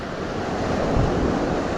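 Ocean waves surge onto a sandy beach with a steady, loud broadband rush of surf and some wind buffeting the microphone, heard alone for a short stretch.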